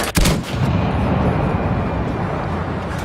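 Heavy cannon fire from an M10 Wolverine tank destroyer in a video game, one sharp loud blast followed by a sustained rumbling roar of battle noise.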